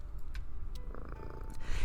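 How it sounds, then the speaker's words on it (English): A cat purrs steadily and close by in a rhythmic low rumble, with a few soft rustles and small sounds over it and no talking. "it's impossible to control the purr that bubbles pleasantly from your throat"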